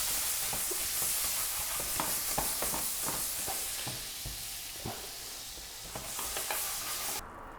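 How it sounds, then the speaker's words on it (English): Fifty grams of butter sizzles in a medium-hot pan, a dense, steady frying hiss with scattered crackles and pops throughout. "So a nice medium hot pan. We're going to add 50 grams of butter"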